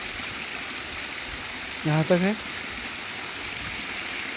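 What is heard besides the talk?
waterfall in Uttarakhand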